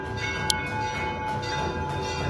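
Temple bells ring continuously during aarti in a temple complex, a dense sustained metallic clanging with steady ringing tones and no voices.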